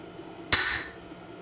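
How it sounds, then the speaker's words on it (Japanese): A blacksmith's forging hammer struck correctly on metal at a full-forging smithy gives one sharp, bright impact that rings on with a high metallic tone, close and alone against quiet. "正しく打ってるハンマーの音。"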